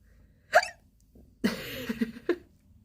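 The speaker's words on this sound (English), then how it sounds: "Waiting for the hiccups to pass." Two sharp, close hiccups about two seconds apart, with a short burst of throaty vocal noise between them in an otherwise quiet room.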